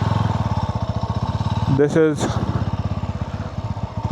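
Sothassi 400 Classic motorcycle being ridden, its single-cylinder engine thumping in a steady, fast pulse up close, with a brief roar of throttle midway as someone speaks over it.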